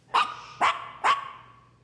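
Small dogs Suki and Yapi give three sharp barks, evenly spaced about half a second apart, clear and close with a short ringing tail after the last.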